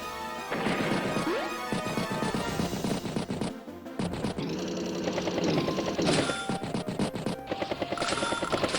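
An artillery barrage in Advance Wars sounds as a string of loud, crunching smashes and rapid cracking hits over busy game music.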